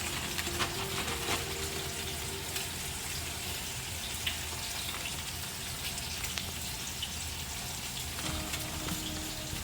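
Fish fries in hot grease with a steady, dense sizzle and crackle that holds throughout, close and even, with faint kitchen clatter underneath.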